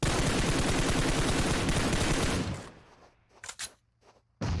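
Rapid, sustained automatic fire from an M416 rifle in a battle royale video game rattles hard for over two seconds, then stops abruptly, leaving a few faint clicks before another burst cuts in.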